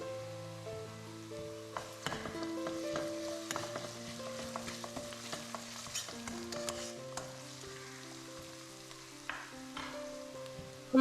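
Onion, ginger garlic paste and green chili sauté in a pan in a steady, close, even sizzle with faint stirring scrapes. A layer of background music runs throughout, and no one speaks.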